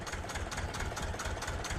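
Tractor engine idling in the farming game Farming Simulator 15, a loud, steady low chugging rumble with an even, rapid pulse that runs without a break.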